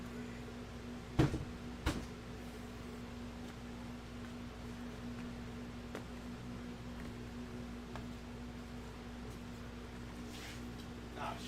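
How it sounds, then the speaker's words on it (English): A door being opened at a workplace at night: two sharp knocks or clacks of handle and latch close together early on, then a quiet steady hum of room noise and a faint tap or two with no talking. "Let's open this door."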